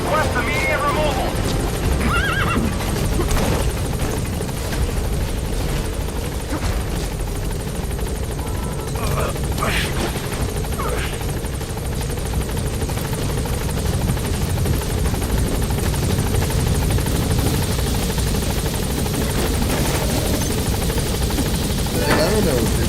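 Pequod helicopter from Metal Gear Solid V hovering near an obstructed landing zone, its steady loud rotor drone filling the whole stretch, with voices talking over it.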